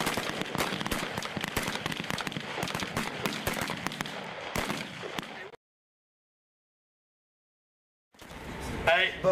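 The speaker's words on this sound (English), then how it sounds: "we're actually down here pulling triggers, seeing rounds go down range" Rifle gunfire on a Marine Corps boot camp shooting range, rapid overlapping cracks from many shooters in a dense irregular volley, then sudden silence before a voice and other noise return.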